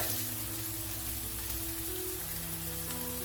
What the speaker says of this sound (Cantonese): 將佢翻炒。